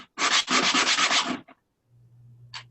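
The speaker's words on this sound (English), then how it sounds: "My sandpaper's getting a little bit old, so that's why it took a while" Fast back-and-forth rasping of worn, old sandpaper on wood, a loud close burst of strokes in quick rhythm that stops abruptly, followed by a low hum and a brief final scrape.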